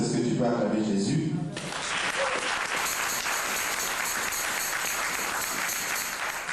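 A church congregation in Brussels breaks into loud, sustained applause and cheering for Jesus, a dense roar of clapping that swells and holds steady as a voice speaks over the start.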